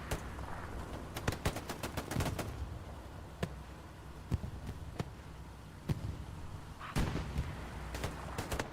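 Gunfire in the World War II shooter game Hell Let Loose: a burst of rapid sharp shots, then sparse single cracks, then another cluster of shots, all fairly distant over a constant battlefield rumble.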